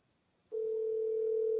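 A telephone line tone on a call, starting abruptly after a half-second of near silence and then holding as a single steady pitched tone, quiet and clear with no voices.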